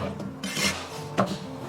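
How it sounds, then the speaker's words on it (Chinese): A knife cuts washed button mushrooms into small pieces, with a few soft, faint slicing strokes against a quiet background. "给它洗干净，然后切小块。"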